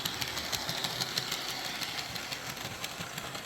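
An Athearn SDP40 model locomotive's motor runs under low power as a quiet, steady electric whir with a faint rhythmic ticking and a high whine, continuous and close.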